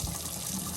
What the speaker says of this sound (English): now with the water pump on, we'll open up the faucet